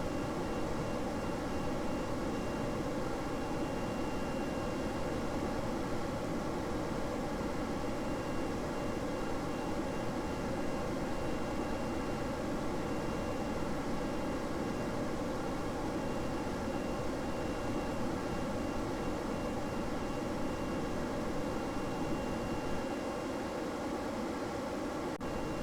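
Ramjet aircraft engines in the video game Kerbal Space Program give off a steady, loud, broadband roar with a faint droning hum, unbroken and unchanging for the whole stretch, with no voices.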